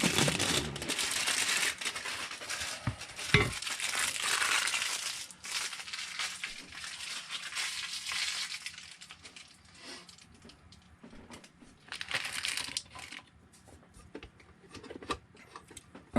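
Protective plastic film being peeled off the glass bed of a Creality Ender 3 V2 3D printer, a long crinkling, crackling tear with bursts and pauses, close and fairly loud, with no talking.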